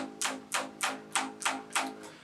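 Six plucked bass guitar notes at one pitch, A flat, evenly spaced and close, each with a sharp attack that fades quickly; no voices.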